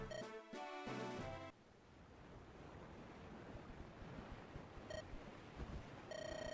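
Ocean waves wash and surge at sea in the Fire Emblem: The Sacred Stones video game, a continuous windy rush of surf broken by short bright musical chimes at the start and near the end.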